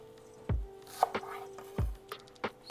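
A knife chops shredded red cabbage thin on a cutting board beside a Steelmade flat-top griddle: a few sharp, close thuds spaced irregularly, with lighter taps and a faint steady hum behind.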